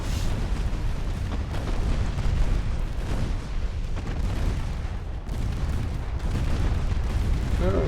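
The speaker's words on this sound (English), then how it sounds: "The 2-inch guns are just going to tear him apart." Naval gunfire from 2-inch guns in Ultimate Admiral Dreadnoughts, a dense, continuous rumble of booms and blasts that rolls on without pause, loud and unbroken by speech.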